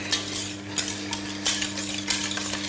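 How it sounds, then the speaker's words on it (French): A utensil stirring a thick cream mixture hard in a pan, with steady scraping and swishing strokes in a regular rhythm, close and fairly loud, with a faint sizzle underneath. "Je vais bien mélanger fort."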